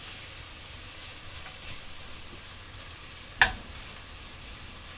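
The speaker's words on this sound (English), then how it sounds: "the bacon is fried" Bacon frying in a pan for potato and bacon soup, a steady faint sizzle running throughout with one sharp louder crackle or tap partway through, no voices.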